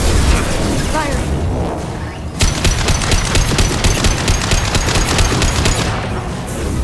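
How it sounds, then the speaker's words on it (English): Loud, sustained rapid-fire gunfire from weapons in a video game, a dense crackling burst with booming impacts, while voices talk over it. "Firing."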